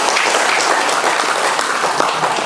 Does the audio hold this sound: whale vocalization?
no